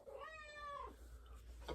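A yellow cat gives one drawn-out, rising-then-falling meow, close by and fairly soft, in a quiet room.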